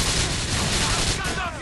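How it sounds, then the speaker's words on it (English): Rapid gunfire in Grand Theft Auto IV, a dense steady burst of shots from a firefight with NOOSE officers, loud and continuous with no pauses. "those guys that are shooting at the Noose officers"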